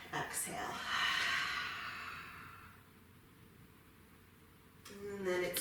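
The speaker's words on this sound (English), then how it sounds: "One more really deep inhale. And really complete exhale." Deep breathing during a yoga sculpt cool-down: a long, breathy inhale swells and fades over a few seconds, a quiet pause follows, then a fresh rush of breath begins near the end, close and soft.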